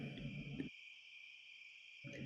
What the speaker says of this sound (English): That's right, crickets.